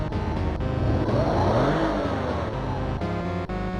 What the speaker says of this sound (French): faire un sourire ultra bright aux joueurs avant de donner un bon coup d'accélérateur